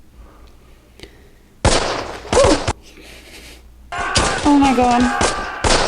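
Bursts of gunfire and explosive thuds from a Band of Brothers war battle scene, loud in short clusters, with excited voices reacting over the onscreen combat.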